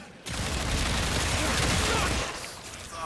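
Sustained volley of standard-armament gunfire aimed for headshots in Warframe: loud, dense, near shooting that kicks in abruptly and rolls on for about two seconds before easing off.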